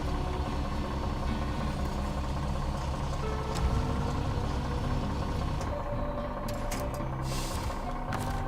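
A truck rolling along a rough Alaska trail, its engine a steady mid-pitched drone with occasional bumps and rattles, constant and fairly close throughout.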